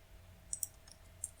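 Three sharp, faint clicks of a computer mouse during web-page editing in WordPress, two close together and a third a moment later, alone over quiet room hiss.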